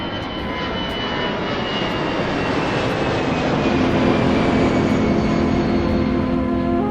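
A fixed-wing airplane departs in a video game, its engine a steady loud roar that swells slightly as it holds for several seconds, with no talk.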